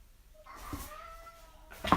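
A pet cat gives a soft, drawn-out meow close by in a quiet room, followed by a brief rustle.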